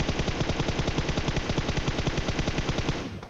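Rapid sustained automatic gunfire in the PUBG Mobile battle-royale game, a fast even stream of close, loud shots for about three seconds before tapering off, with no talking.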